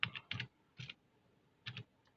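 Keys on a computer keyboard tapped in four short bursts of quick clicks while a macro name is entered in MS Word, close and fairly quiet with pauses between.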